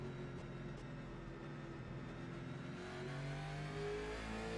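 A race car engine on its outlap at Sonoma Raceway in iRacing, a steady loud drone that rises in pitch as the car accelerates, with no talk over it.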